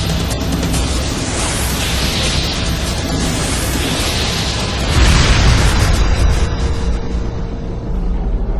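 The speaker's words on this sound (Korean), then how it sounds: "한순간 역화로 인한 폭발로 이어질 수 있습니다" A gas welding torch flashback sets off an explosion, a loud sustained roaring blast with crackling debris, swelling again midway before tapering into a rumbling tail.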